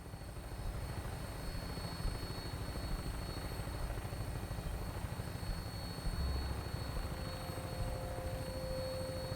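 A Fallout 4 aircraft on final approach to an airport, a loud, steady engine and rotor drone that holds constant throughout, heard from on board, with no voices.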